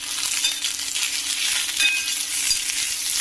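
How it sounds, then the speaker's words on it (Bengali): Aloo posto fries in a Nirlon triply tasla with a dense, steady hiss of sizzling oil, close and continuous, with faint metallic clinks. "এখন আমি আলু পোস্ত রান্না করছি"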